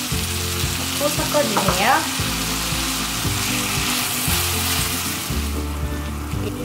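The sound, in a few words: pork belly and cabbage sizzling in pan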